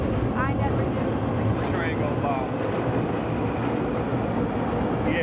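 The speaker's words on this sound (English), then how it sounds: "This train go by." A train passing by close at hand, a loud steady rumble and rattle of rail cars filling the whole stretch, with voices faintly audible beneath.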